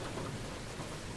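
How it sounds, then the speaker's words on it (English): Steady rain pours down in the otome video game Seduce Me the Otome, a dense, even patter of drops with a low rumbling undertone throughout, no voices. "It's been a long time since I've gotten rain around here."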